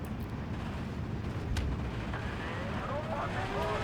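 Rocket artillery rumbles and booms through a Steel Division World War battle, dense low explosions and crackling impacts rolling continuously, with a louder blast near the middle.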